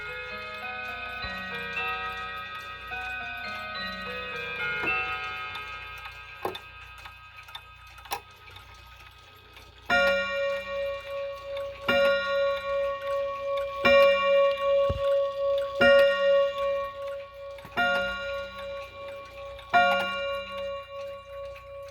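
A Chinese Polaris 31-day wall clock, wound with its original key, ticks steadily and close by in a quiet room, its regular beats sounding alone after an earlier strike tone fades.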